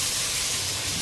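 Ginger garlic paste, about three spoonfuls with green chillies, sautéing in hot oil for a hotel-style chicken biryani: a steady, loud sizzling hiss running unbroken throughout, no talk.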